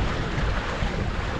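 Steady wind buffets the microphone aboard a sailboat becalmed in the doldrums, a continuous broadband rush with no let-up and no voices.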